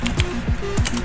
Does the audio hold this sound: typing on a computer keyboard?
yes